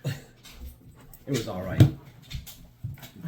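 Bandit the dog, excited, gives short whimpers and panting breaths close by, broken up and mixed in with a person talking.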